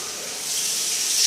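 Warm water runs steadily from a tap into a sink, a loud, even hiss that swells slightly toward the end, with no voices.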